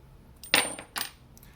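A tossed coin lands on a hard surface: two quick metallic clinks about half a second apart, close and clear, followed by faint ringing before quiet returns.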